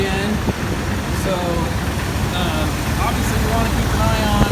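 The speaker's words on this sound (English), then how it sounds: "Okay, engine's running again." A car engine idles steadily nearby just after a thermostat replacement, a continuous low hum running throughout with faint intermittent higher tones over it.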